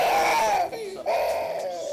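A young child throwing a tantrum lets out a loud, high wailing scream that breaks off briefly, then resumes as a sustained sobbing cry.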